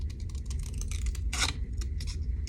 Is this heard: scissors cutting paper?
yes